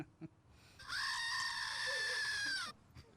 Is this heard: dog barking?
no